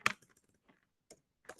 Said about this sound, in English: I have to type this and enter